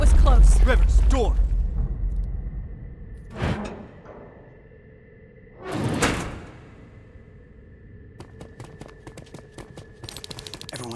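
Heavy mechanical doors slide and clank open in the Terminator: Resistance video game, with a few whooshing surges and rattling latches over a low hum, following a shouted voice at the start.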